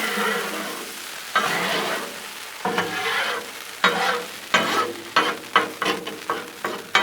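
Steak and shrimp sizzle on a Blackstone griddle as a metal spatula scrapes and slides them across the flat top, with the scraping strokes coming faster and sharper toward the end.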